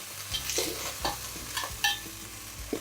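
Chunks of beef fry in a hot pan with a steady sizzle, while a utensil stirs and scrapes them in several distinct strokes, close by and with no one talking.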